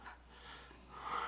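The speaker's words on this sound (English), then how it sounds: "is someone snoring? That's my basset hound." A heavy basset hound snores faintly in the background, with soft breathy snorts and wheezy inhales rising and falling over a little over a second.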